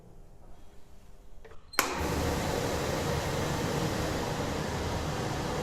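A heat exchanger rig's fan is switched on with a sharp click, then a steady loud broadband whoosh of moving air holds constant after a quiet hum.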